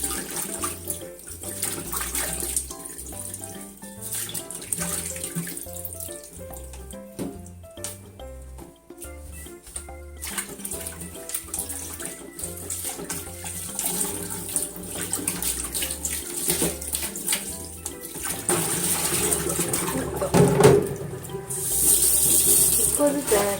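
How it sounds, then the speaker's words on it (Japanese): Running tap water splashes steadily over perilla (shiso) seeds being rinsed in a kitchen, a continuous close rush with small shifts as hands work the seeds, growing fuller toward the end. "今日は洗ってからこうやってつぶつぶをね取っていきたいと思います"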